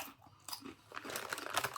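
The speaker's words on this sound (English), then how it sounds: "Good crisps, like the last ones, you know, they've got a good crunch" Paprika-flavoured Swiss crisps crunched and chewed close up, a series of crisp, brittle crackles after a brief quiet start, with no talking.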